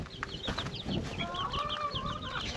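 Hens and chicks clucking and cheeping inside a henhouse, a busy chorus of short overlapping calls with a longer drawn-out note in the middle, close and moderately loud.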